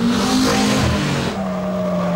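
A Fiat Stilo driven hard by Formula 1 drivers roars past loudly, its engine revving and tires squealing, then the pitch shifts as it pulls away.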